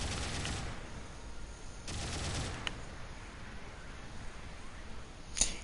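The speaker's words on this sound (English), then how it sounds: "look how far off we're shooting" Gunfire in the video game Gundam Battle Operation 2, fired at long range: two short bursts of rapid shots, moderately loud, followed by a lone crack and a sharp hit near the end.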